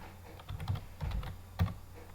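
Typing on a computer keyboard while working at Linux commands, a few short bursts of close key clicks with brief pauses in between, quiet and with no voice.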